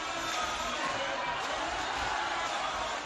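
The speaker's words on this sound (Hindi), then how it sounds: "मंदिर में बड़ी संख्या में श्रद्धालुओं की ऐसी भीड़ उमड़ी" Dense crowd of devotees packed into a temple during Holi celebrations on Rangbhari Ekadashi, a steady, unbroken murmur of many voices and bustle with no single sound standing out.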